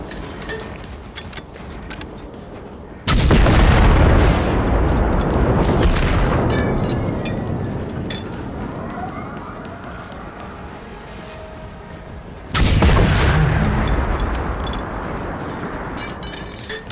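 Two heavy, booming blasts in the video game Generation Zero, set in an industrial area, each followed by a long rumbling decay under a quieter steady background.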